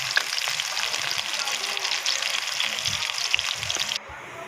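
Garlic and onion frying in hot oil for pork intestine adobo, a steady close sizzle with faint stirring scrapes that drops away abruptly near the end.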